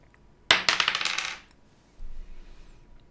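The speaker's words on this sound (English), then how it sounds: "Should I throw dice here to determine which one to select?" Dice thrown onto a hard surface: a sharp clatter of rattling bounces tumbling for about a second, then a quieter second rattle shortly after, close and alone with no talk.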